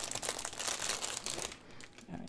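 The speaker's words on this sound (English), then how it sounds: "Sorry for the crinkles." Plastic packaging from an art supply snack box crinkles loudly and continuously for about a second and a half, then fades to quieter rustling.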